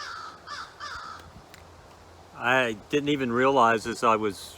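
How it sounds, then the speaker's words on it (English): Crows caw outside, a few distant calls early on, then louder repeated harsh caws in a quick series while someone talks over them indoors. "the crow sounds you heard and you hear now are actually the crows that come to visit me each day"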